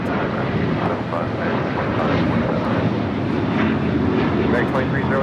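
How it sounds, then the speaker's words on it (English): An American Airlines Boeing 737-800 departing LAX for Raleigh-Durham, a loud sustained jet engine roar with broadband rumble, heard under a voice talking. "This is American 2308 departing to Raleigh, Durham on a 737-800."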